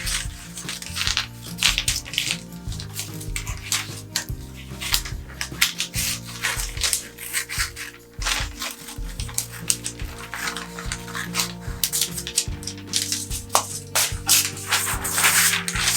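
Scissors cutting around a paper sleeve pattern: a steady run of close, crisp snips and rustling paper scrapes, repeating in a quick irregular rhythm throughout.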